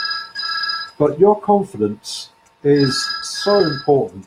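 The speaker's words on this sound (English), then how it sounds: "And I do apologize for that phone." A telephone rings in a room with a tonal electronic bell, in two bursts near the start and middle, while a person keeps talking over and between the rings.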